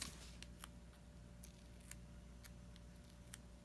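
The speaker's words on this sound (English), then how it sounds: "So I'm going to cut my foam tape in half" Scissors snip through foam tape with a few faint, crisp clicks spaced about half a second apart against a quiet room hum.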